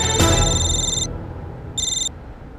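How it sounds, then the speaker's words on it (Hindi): A telephone rings with an electronic ringtone, two bursts of bright repeating chirps separated by a short pause, loud and close, with no talk over it. "रमेश के घर से कांस्टेबल का फोन था"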